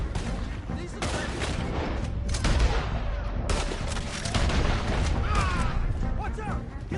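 Dense gunfire from a shootout in Red Dead Redemption 2, shots cracking continuously and overlapping with loud bursts over the whole stretch, with voices shouting in the mix.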